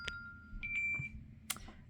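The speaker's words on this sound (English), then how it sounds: "sorry, phone call." A phone sounds a short electronic alert, a few thin sustained beeps and tones spaced across a couple of seconds, fairly close over a quiet room, with small handling knocks in between.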